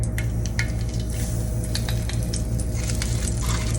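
Food pieces sizzle and crackle steadily in a hot oiled skillet while breakfast cooks, a continuous close frying hiss with scattered pops and no talking.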